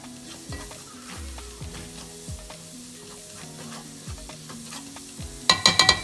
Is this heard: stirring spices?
yes